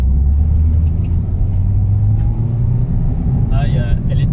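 Peugeot 207 RC engine pulling hard at full throttle in second gear, a loud continuous in-car rumble with a voice talking over it.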